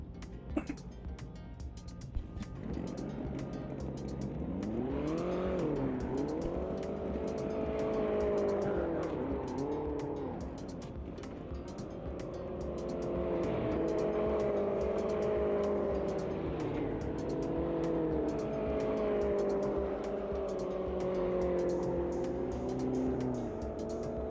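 Race cars in Automobilista 2 run a wet track, a continuous loud engine drone with pitch sweeping up and down through gear changes, steady for the whole stretch.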